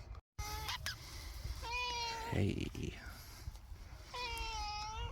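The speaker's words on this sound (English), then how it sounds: "Hello, little kitty. The cat's just popped to say hello." A small cat meows several times in a garden allotment on a warm June day, its rising and falling cries close and clear, with a person speaking softly nearby between the meows.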